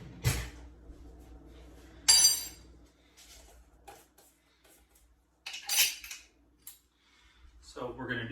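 A spoon stirs overnight oats ingredients in a container, giving a few scattered clinks and scrapes in short bursts separated by quiet pauses, close by, with a brief voice or noise near the end.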